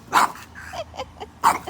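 A Boston Terrier barks nearby in two sharp, loud bursts with a few softer yips and whimpers between them.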